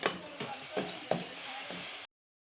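Chicken sizzles in a pan with soy sauce and chili sauce, a close hissing fry punctuated by several stirring scrapes, cutting off abruptly after two seconds.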